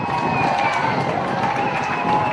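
At a 2019 Pacific Military Cup rugby sevens match, a crowd cheers after a try for the Cook Islands: a steady, loud roar of many voices and whistles, with a commentator talking over it.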